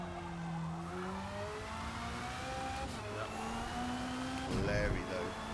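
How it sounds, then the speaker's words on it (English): A Ferrari engine revs in the Forza Motorsport racing game, its pitch climbing and falling through several gear-like sweeps, a smooth mid-loud whine heard alongside a speaking voice. "Listen to that Ferrari sing"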